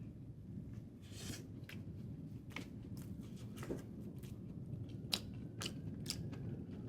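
Biting and chewing a pancake folded like a taco, filled with maple brown butter apples and sesame praline: a run of soft, close crunches and mouth sounds scattered over several seconds against a low background hum.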